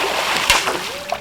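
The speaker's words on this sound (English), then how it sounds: "I decided that I'd try throwing some glass into the river" Glass pieces thrown into a river beside a glass house, landing with one short, close splash over a steady rush of flowing water.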